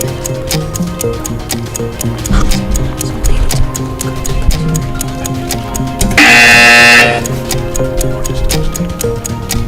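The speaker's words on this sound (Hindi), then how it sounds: "टीम सी, आपने बजर दबाया" A quiz-show buzzer pressed by a team sounds as a loud, steady electronic tone lasting about a second over a backdrop of ticking timer music.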